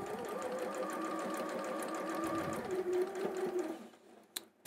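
A small sewing machine stitches a quilt block in a steady, close hum that runs for several seconds and then stops, leaving a few faint clicks. No speech is heard.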